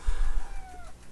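A house cat gives a single drawn-out meow, fairly faint and falling in pitch, over low background rumble.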